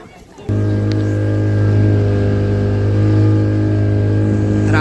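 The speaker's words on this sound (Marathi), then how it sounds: "तर आता आपण बारक्या बोटीतून चाललोय मोठ्या बोटीजवळ" A small boat's engine starts up and runs steadily on the water, a loud, close, continuous low hum with a strong even tone under faint voices.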